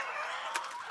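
Chickens in a poultry house make a dense, steady chorus of clucking, with a brief louder cluck midway.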